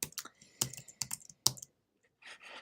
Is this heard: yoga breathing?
no